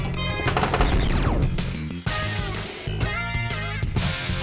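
Rapid video game gunfire rattles in dense automatic bursts, aimed at a leg, loud and close amid layered synthetic effects and music, with a short break midway before the shooting resumes.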